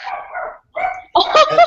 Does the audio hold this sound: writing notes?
no